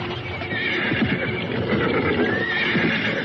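A horse whinnies and neighs over steady clip-clopping hooves, with a continuous noisy ambience behind it, in an Indonesian audio drama.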